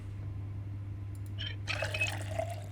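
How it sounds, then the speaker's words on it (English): Water being filled in the Project Zomboid video game, Build 41: a low hum and a faint clink, then a short splashing, gurgling pour that runs for about a second. "Actually, let's fill up our water."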